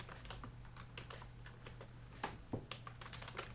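Rapid, irregular keystrokes on a computer keyboard while jQuery code is typed, close and moderately loud, with a steady low hum beneath and a few sharper clacks near the end; nobody speaks.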